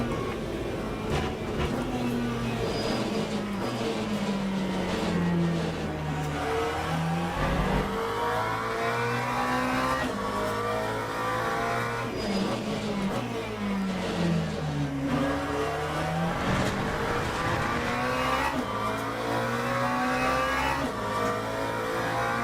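Le Mans Ultimate race car pulling long in 5th gear: a loud engine note that climbs steadily, drops at each shift, then climbs again, running continuously and close with no talk.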